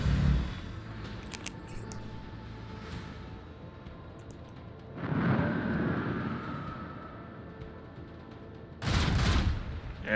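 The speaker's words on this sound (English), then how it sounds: "And more macro guns." Macro guns on a starship in Warhammer 40K Rogue Trader fire in heavy, rumbling volleys, a short burst at the start, a longer booming barrage in the middle and another loud blast near the end over a low hum.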